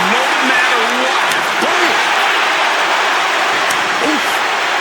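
Dense, steady crowd roar fills a WWE 2K25 wrestling arena, a loud continuous wash of cheering with scattered shouts and whistles rising above it throughout.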